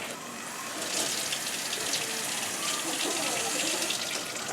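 Tap water runs steadily into a sink as Scotch bonnet peppers are rinsed under it, a continuous close splashing hiss with no talking.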